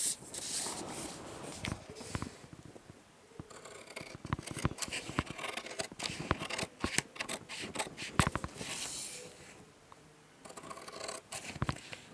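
Scissors snip through a sewing pattern in a quick, irregular run of crisp cuts with paper rustling in between, close and fairly quiet, with short pauses before the snipping resumes.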